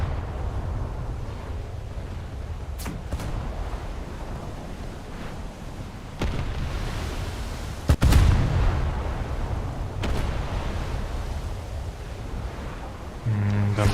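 Ship broadside cannons fire in a naval warfare game, with a few heavy, scattered booms rolling over a constant background of sea and engine rumble.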